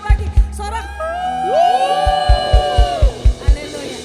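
A church congregation at a Sunday worship service cheers loudly in a long, sustained shout of many voices, with rhythmic thumps and claps underneath, filling the hall.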